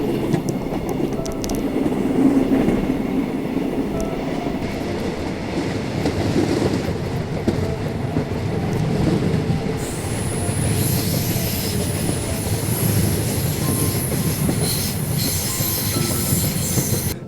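A sleeper train on Malaysia's East Coast Line, running through the jungle between Gemas and Kota Bharu, rumbles steadily with clattering wheels and a high metallic squeal rising in the second half, heard from on board.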